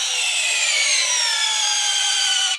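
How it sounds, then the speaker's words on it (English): A drill bores into a bale of hay made from failed drought crops, giving a steady, loud, high-pitched grinding whir that holds unbroken for a couple of seconds up close, with no talking. "He drills into a bale to get samples to test for nitrates."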